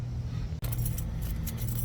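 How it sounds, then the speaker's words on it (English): A bunch of keys jangles close up for nearly two seconds, a steady metallic rattling with a brief gap partway through, as a ring of keys is sorted before driving a drag race car. "It's one of these keys."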